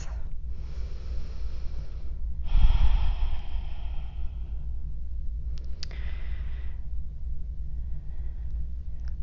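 Slow, deep breaths during a held yoga lunge, with audible inhales and exhales close by, spaced a few seconds apart, against a low hum and no talking.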